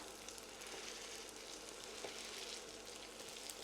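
Rösti potato cakes, pressed flat with a spatula, fry in a pan beside pheasant, giving a steady, even sizzle that holds at moderate level throughout with no voices.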